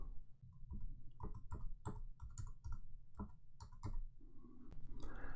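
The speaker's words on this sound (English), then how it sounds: "the first thing you do is you type in the name of your school" Someone types a school name on a computer keyboard, producing a close, irregular run of crisp key clicks with short pauses between bursts over about five seconds.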